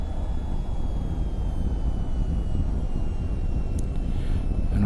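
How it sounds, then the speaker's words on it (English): A jet aircraft taxiing down a runway in the flight game VTOL VR gives a steady, loud broadband engine rumble with faint wind noise, unchanging throughout. "Taxi down to the end of the runway."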